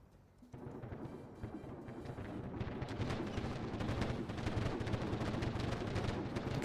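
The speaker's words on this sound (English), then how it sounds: "Look how many people are shooting up in these towers." Dense, continuous gunfire and booming shots from defensive towers during a battle in the city-building game Tropico 6, starting after a brief quieter moment and rolling on loudly without pause.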